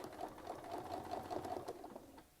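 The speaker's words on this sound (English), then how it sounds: "I'm just going to stitch right back down that side to get back to the center" A sewing machine stitches steadily along a Westalee Spin-E-Fex ruler in a continuous, even run of rapid needle strokes, close and fairly loud with no talking.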